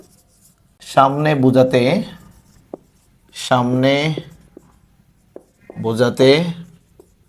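A teacher writes a grammar example on a classroom board, with a few faint taps and scratches falling in the pauses between stretches of Bengali speech.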